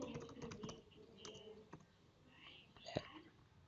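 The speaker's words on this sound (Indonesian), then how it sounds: "saya ketik ulangan" Computer keyboard keys tapped in short bursts, faint and close, while a teacher types a Google Classroom quiz title, with soft breathy murmuring between the clicks.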